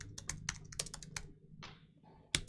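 Quick, uneven bursts of clicking as fingers type on a computer keyboard nearby, with brief pauses between runs and a sharper final tap.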